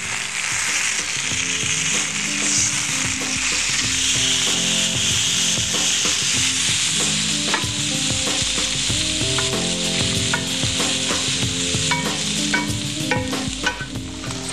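Food sizzles in a pan as it browns on both sides, a steady frying hiss overlaid with frequent scraping, clicking and stirring sounds from utensils working the pan.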